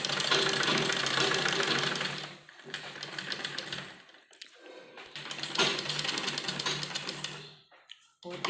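Sewing machine running fast while stitching along the edge of a kurti neckline, a dense loud rattling whir in long bursts with short pauses between runs, alone and without talk.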